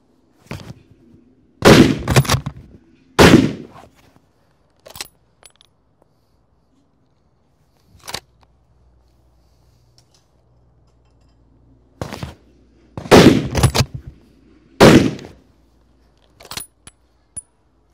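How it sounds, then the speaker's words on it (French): Sharp shots from a Chapuis Rols Deluxe .30-06 rifle fired at a running boar target, loud paired reports with short ringing decay, two bursts several seconds apart separated by quieter clicks and handling noises. "On peut tirer 2 balles."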